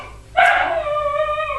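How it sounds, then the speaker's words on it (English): A dog gives one loud, close yelping bark that slides into a drawn-out whining howl, with no talk over it. "Sorry, my dogs are they're horrible."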